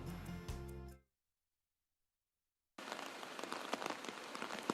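Steady rain falls during southwest monsoon flooding in Metro Manila, a dense, hissing patter with scattered heavier drops, heard after a brief musical sting and a stretch of silence.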